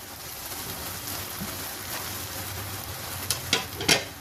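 Eggplant and potato pieces go into hot oil, giving a steady soft sizzle with a few sharper crackles and pops near the end, close and fairly quiet.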